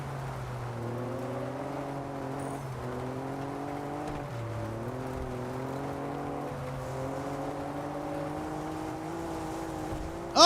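Cars race in Test Drive Unlimited Solar Crown, with a steady engine drone and rising, shifting revs from several cars held loud and continuous, closing with a sudden hard hit at the end.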